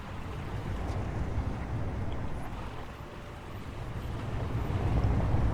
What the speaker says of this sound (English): It just sounds so loud when you're driving around with these sticky wheels